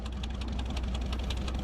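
Vehicle engine idling in the Men of War video game, a steady low rumble with a faint rhythmic knock, continuous and moderately close with no talk.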